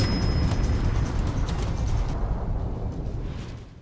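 A deep rumbling explosion in the video game Nuclear Titbit, a dense low roar that holds loud for a few seconds and then slowly dies away, with no voices.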